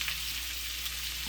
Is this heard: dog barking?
no